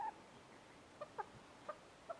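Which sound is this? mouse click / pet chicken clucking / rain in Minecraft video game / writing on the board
pet chicken clucking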